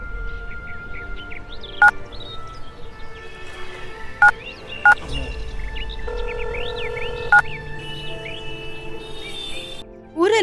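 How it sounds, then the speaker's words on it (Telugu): A phone being dialed: a series of short beeping key tones spread over several seconds above a low steady hum and faint chirping, with a louder sound starting abruptly at the very end. "ఆగు, వాడికి ఇప్పుడే కాల్ చేస్తా."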